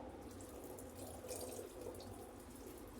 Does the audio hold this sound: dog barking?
no